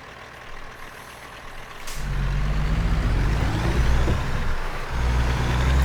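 A heavy truck in American Truck Simulator rumbles as it maneuvers backward into a tight parking spot, a sharp air-brake hiss near the start followed by a loud, steady engine drone that swells and holds.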